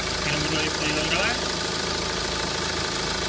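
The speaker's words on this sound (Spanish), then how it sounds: "aquí tenemos el coche arrancado" Renault Laguna II 1.9 dCi diesel ticking over at idle, a steady close rumble with faint knock, while someone talks over it.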